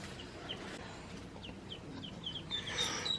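Pet chickens cluck in a series of soft, short calls, fairly close but quiet, over a low background murmur, with a few higher squawks toward the end.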